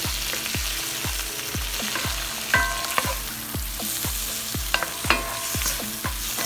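Onions frying in a pan for a big breakfast, a steady close sizzle broken by repeated scraping stirs at a regular rhythm, with a few brief clinks, no talking.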